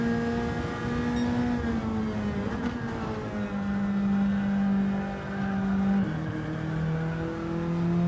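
A race car engine in Gran Turismo 7 drones loud and steady, its pitch rising and dropping as the revs change through the gears, with no voices.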